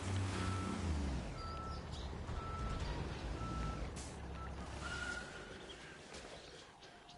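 A dump truck's reversing alarm beeps steadily and evenly in Construction Simulator 22, riding over a loud, constant diesel engine rumble. Nobody speaks.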